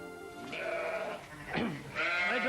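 A ewe, numbered 138 on a sheep farm, bleats in two drawn-out wavering calls with a short pause between, close and clear with no talk over them.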